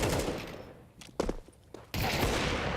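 Gunshots ring out in a Counter-Strike match at a PGL Cluj-Napoca 2025 esports event: a burst of rapid fire, a quieter gap holding a few sharp single shots, then more firing.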